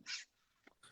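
A dog gives a sharp bark, then short yips and whimpers, fairly faint and indoors, reacting to a dog it despises.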